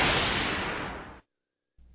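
A whoosh effect on a final Flash text animation: a loud broad rushing sweep that fades and then cuts off abruptly into silence, followed by a faint low noise.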